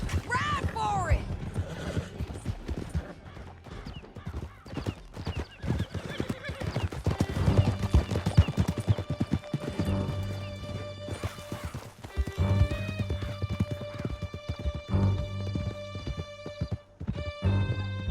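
Several horses gallop in Red Dead Redemption 2, hooves clip-clopping fast and steady through a canyon escape, with neighs and whinnies, dramatic music and occasional voices over the ride.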